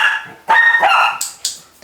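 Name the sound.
dog barking at clicker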